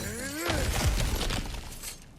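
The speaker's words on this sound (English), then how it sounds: "back to smashing through things for fun and profit" Objects smashing and shattering in the God of War game, a brittle crash of breaking debris with scattered fragments rattling down over about two seconds, moderately loud.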